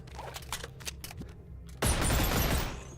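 Rapid dual-pistol fire in Boneworks: a few scattered shots, then a dense, loud burst of overlapping gunfire from two guns firing together.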